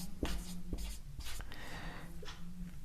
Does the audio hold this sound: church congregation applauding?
no